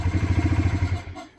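An old motorcycle engine that has sat unused, its blocked fuel filter cleaned out, chugs in a fast, even thumping idle, close and loud, before cutting off and fading after about a second.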